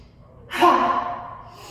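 A single forceful exhale in an energizing yoga breathing exercise, a loud breathy "ha" bursting out after a quiet lead-in and fading over about a second, heard alone.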